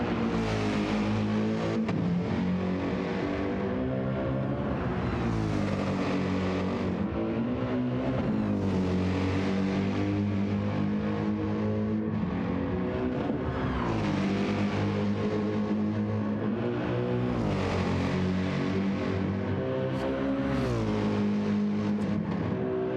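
A Mercedes GT race car engine roars continuously in a sim racing game at the Nürburgring during an endurance stint, its loud harmonic drone rising and falling through gear changes and corners with no pause.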